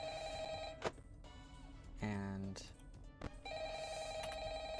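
An old-style telephone bell rings repeatedly in Five Nights at Freddy's 3 (fan version), steady tones at moderate volume with brief clicks and a short spoken word near the middle.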